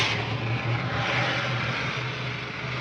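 Rocket pilot jet firing in a vintage science-fiction film, a steady loud roaring rush with a low hum beneath, continuous and unbroken throughout.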